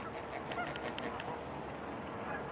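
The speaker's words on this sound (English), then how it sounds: "got a big goose sitting behind me right now" A big goose honks several times in a short series of nasal calls, moderately distant and fairly faint against steady outdoor background noise.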